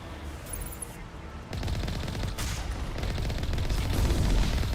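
Enemies open fire in Mass Effect, and after a brief quieter lead-in the shooting becomes a sustained, rapid burst of automatic gunfire that stays loud and close.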